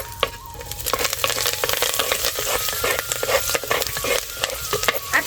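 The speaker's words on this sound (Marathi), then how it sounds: "लाल मिरची आणि बाजारचा मसाला सोडून घेते" Red chili, bazaar masala and coriander sizzling and frying in a hot pan, with a steady crackling hiss and repeated scraping stirs close by, no voices.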